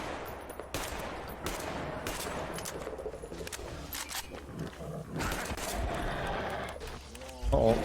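Gunfire from the video game Metro Exodus fires in rapid bursts and single shots over several seconds, mixed with roaring from wild animals. Someone talks over the shooting.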